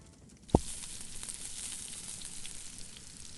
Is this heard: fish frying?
yes